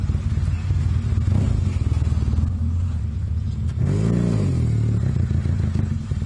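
A motorcycle named Whiskey idles roughly while warming up and still needing choke, its loud, near, uneven chugging rising into a brief rev partway through before settling back to idle.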